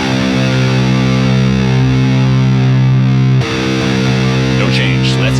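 A loud, heavily distorted electric guitar's low C string in drop C tuning drones steadily, then cuts off and is struck again, with gritty harmonics and a faint voice underneath.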